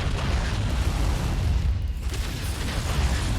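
Explosion of a destroyed target in Mechwarrior 5, a loud sustained rumbling blast with dense low roar and crackling debris filling several seconds alongside mech combat noise.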